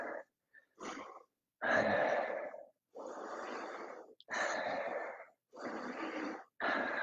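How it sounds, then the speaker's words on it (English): Heavy, loud breathing right after a workout combo, a steady series of about seven deep gasping inhales and exhales with short pauses between, close up and with no speech. "I need some breaths."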